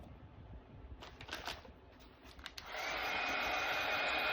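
A handheld hair dryer blows steadily on freshly painted pink bunny craft pieces, switching on after a few seconds of light tapping and handling noises and then holding a loud, even whoosh close by.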